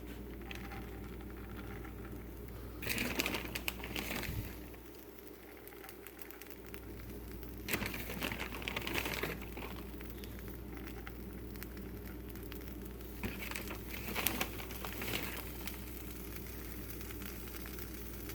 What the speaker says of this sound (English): If you can hear that crackling sound, that's just the excess cheese melting on the pan itself.